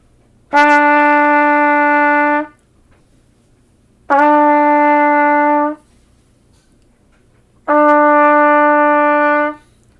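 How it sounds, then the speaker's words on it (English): A trumpet sounds a sustained E note three times, each clear steady tone lasting about two seconds with short silences between, close and loud. "So an E should sound like that."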